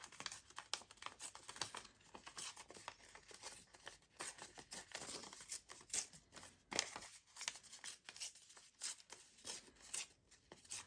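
Paper being torn by hand into a decorative edge for a recycled-envelope craft project, heard as a close, steady run of dry crinkly rips and rustles with no talking.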